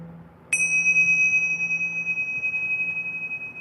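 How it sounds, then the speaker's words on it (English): A single bright strike of tingsha cymbals rings out clearly, its pure high tone sustaining and slowly fading with a gentle shimmering beat over a quiet hum. "this tingsha is a very beautiful instrument"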